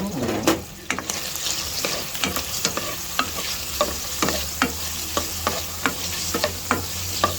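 Longganisa sausage frying in its own rendered fat with no added oil, cooked for breakfast: a steady sizzle broken by regular, close spatula scrapes and taps as the pan is stirred.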